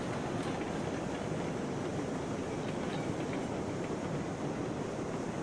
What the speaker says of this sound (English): I was moving the locomotive real quick